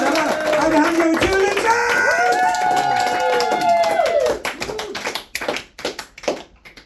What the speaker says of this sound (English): the amount of applause that 20 people can make